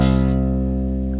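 A C note is played on a bass guitar at the third fret of the A string, sounding as one loud, sustained tone that rings steadily throughout.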